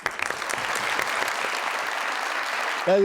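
Dense audience applause, a sustained wash of clapping hands that continues steadily before a voice begins at the end.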